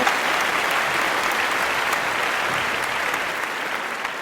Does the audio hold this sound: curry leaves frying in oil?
no